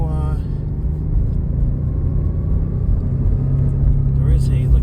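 A driving $1100 Subaru with a pronounced drive shaft noise gives a loud, steady low rumble throughout, with a brief voice near the start.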